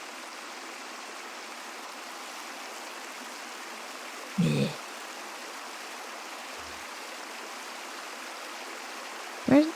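Steady broadband rushing of water in VRChat runs throughout, a continuous stream-like wash, with a brief spoken word and a couple of short bumps near the middle and end.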